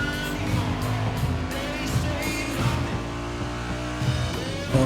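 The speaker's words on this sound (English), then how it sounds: "Then we are now driving backwards on this race course." A race car in The Crew Motorfest video game drives along a race course, its engine droning steadily with rising and falling revs and faint tire squeal, continuous and close without any talking.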